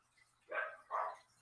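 Dogs give two short barks a moment apart at a moderate distance, with nothing else around them.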